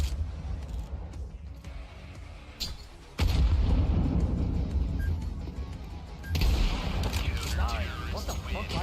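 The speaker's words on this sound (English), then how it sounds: "Grenade out." A grenade detonates in a video game shooter, with heavy booming blasts hitting suddenly twice, then rumbling loudly over background game sounds and gunfire.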